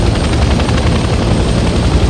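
A helicopter engine in the video game Hell Let Loose Vietnam sits on a helipad, making a loud, steady rotor thrum with a rapid low pulsing beat that holds throughout.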